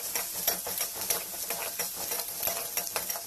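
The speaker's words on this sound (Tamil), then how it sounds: "வெங்காயம் வந்து கொஞ்சம் நல்லா ஃப்ரை ஆகிற வரைக்கும் நீங்கள் லோ ஃப்ளேமில் வச்சு ஃப்ரை பண்ணுங்க" Onions fry on a low flame with a steady sizzle while a utensil stirs them in repeated scraping strokes, close and fairly loud, with no voice over it.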